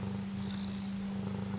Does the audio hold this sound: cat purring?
yes